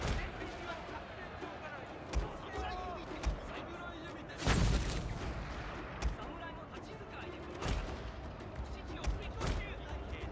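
Musket volleys on a Total War: Shogun 2 battlefield, sharp cracks scattered irregularly across the scene with one heavy burst midway, over a busy background of battle noise.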